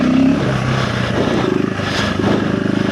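A 2025 KTM 390 Enduro R single-cylinder motorcycle engine fitted with a DNA air filter idles and revs with a loud, steady rumble, close by and alone, with slight rises in throttle.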